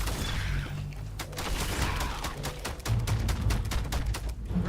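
Rapid bursts of gunfire ring out in the video game Starfield, a dense fusillade of shots repeating over a low droning background, loud and continuous with brief gaps.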